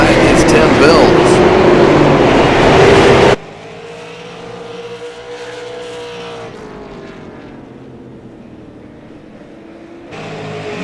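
Late model race cars at Irwindale Speedway, a loud roaring pack of engines sweeping past before dropping abruptly to a quieter, distant engine drone, then swelling again at the end.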